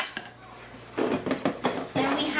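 A large black Imusa cookware pot is handled with a few sharp metallic clanks and knocks, close and clear against a quiet room.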